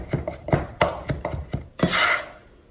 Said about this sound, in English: Let's chop that up nice and finely.